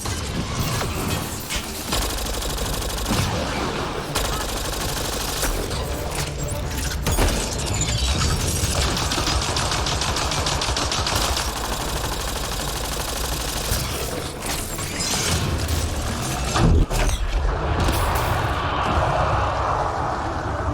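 Sustained automatic gunfire and weapon bursts from a Mass Effect Andromeda firefight, dense and loud throughout with mechanical clatter and occasional heavier impacts.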